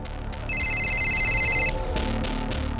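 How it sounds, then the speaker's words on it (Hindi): A telephone ringtone sounds for an incoming call in a Hindi police crime drama: a bright electronic repeating tone lasts about a second over low room background, and no one speaks during it. "खबरी नदीम का फोन है सर"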